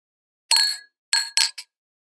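Coffee cups or glasses clink together in a toast, four bright ringing taps in quick succession with short decays, close and clear against silence.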